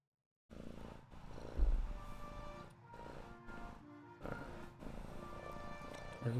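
A house cat purrs steadily up close, a continuous low rumbling drone with rhythmic pulses that swells and dips over several seconds.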